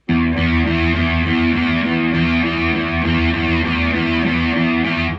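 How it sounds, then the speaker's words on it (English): A distorted electric guitar plays steady repeated low downstrokes on the low E string, a thick sustained chugging tone ringing throughout. "Practice hitting down, down, down, down, down, down."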